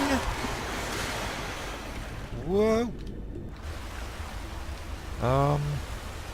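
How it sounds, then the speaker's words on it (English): Steady rushing of fast-moving water in a Skyrim cave fills the background, with a voice exclaiming briefly and two short tonal calls rising above the flow. "This water moves quite fast"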